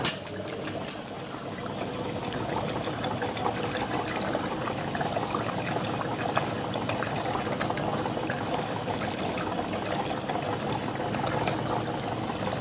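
A machine churns peanut butter cream ice mix with a steady bubbling, liquid whir that starts with a brief clatter and then runs evenly throughout without talk.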